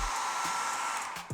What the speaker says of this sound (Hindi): यस, आप हेयर ड्रायर भी यूज कर सकते हो